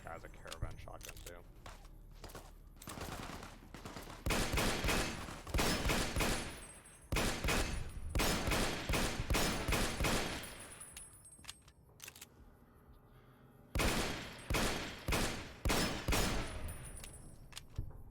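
Caravan shotgun fire in Fallout New Vegas rings out in repeated sharp blasts, clustered bursts of loud shots separated by short pauses, with a voice talking at times between them.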